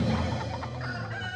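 A chicken clucks in a short burst, full and close, inserted as a comic sound effect for a cockfight joke.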